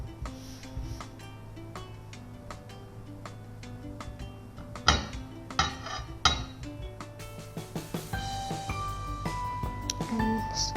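Banana bread batter with flour being stirred in a bowl: irregular clinks and taps of a utensil against the bowl, close by, with a few sharper knocks and faint voices in the background.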